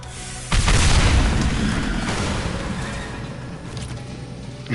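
Loud explosion in Mass Effect 2 as fuel canisters blast through a wall, a sudden heavy boom followed by a long rumbling, crackling tail that slowly fades, with a small pop at the end.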